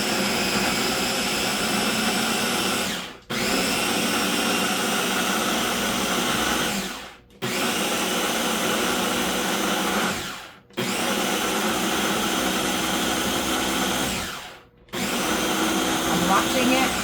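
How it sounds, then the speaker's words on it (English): A blender chops onions, peppers, garlic and cilantro for sofrito, a loud steady whirring roar running in four long bursts, each cut off by a short pause before restarting. "I could see how it blends, and it's blending really good"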